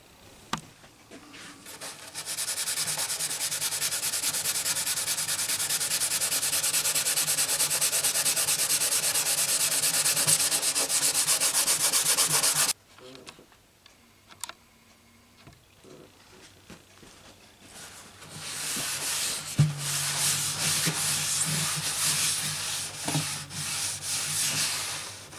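A brush rubs finish onto and off the body of a crushed Gibson J45 acoustic guitar under repair, making a loud, continuous scrubbing swish that gives way to quieter, intermittent strokes and light taps.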